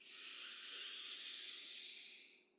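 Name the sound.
breathing in through the nose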